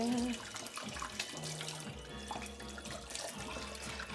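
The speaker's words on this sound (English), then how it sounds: "I'm gonna quickly rinse my hands" Water runs from a kitchen tap as hands are rinsed, a continuous splashing stream close by with small shifts as the hands move under it; no voices.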